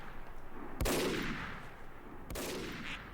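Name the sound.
sniper rifle gunfire in the video game Team Fortress 2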